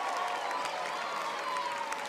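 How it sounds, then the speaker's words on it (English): Crowd at an NCAA college softball game between Alabama and LIU clapping and cheering after a pitch, a steady, fairly distant wash of applause. "The crowd clapping and celebrating that pitch."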